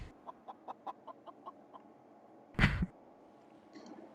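Chicken in a VR game makes a rapid series of short, evenly spaced clucks, followed by a louder, brief squawk-like burst and a faint final call.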